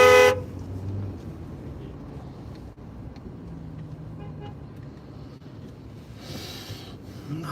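A city bus in New York traffic sounds a horn briefly and loudly at the start, followed by steady roadway noise and engine rumble, with another faint honk near the end.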